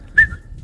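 A single short human whistle, a brief tonal note that rises and then holds, sounding nearby against low background rumble, as someone imitates the whistling call of mountain lions.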